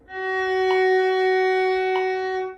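A sustained violin tone, F sharp played with the second finger on the D string, holds steady and close for over two seconds, with two faint bow-change bumps and no voices.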